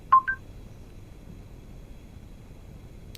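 Two quick electronic beeps of rising pitch from the voice command system of a 2018 Volvo XC60 T8 Twin Engine plug-in hybrid, followed by a quiet cabin and a faint click at the end.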